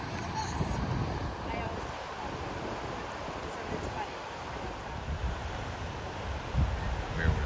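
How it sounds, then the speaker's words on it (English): Steady wind roaring and buffeting across the open coast at the National Seashore, a broad continuous rush with gusts rising toward the end, no talking over it. "the wind just picked up from the west"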